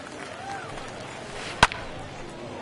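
A single sharp crack of a bat striking a baseball for a foul ball in a PS4 baseball game, one brief loud impact over a low crowd murmur.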